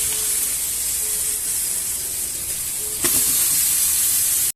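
Chicken pieces dropped into hot oil with softened onion and tomato sizzle loudly and steadily, a dense close hiss that flares a little brighter partway through after a faint clink.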